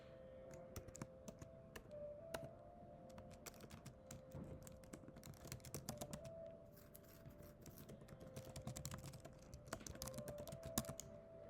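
Rapid typing on a computer keyboard, with quick irregular clusters of sharp key clicks running throughout at moderate closeness, plus a faint steady tone humming underneath.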